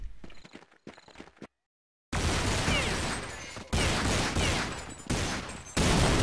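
Rifle fire from a Counter-Strike match on de_nuke rattles in several loud, dense bursts with abrupt cutoffs, following a few softer clicky taps and a brief moment of silence.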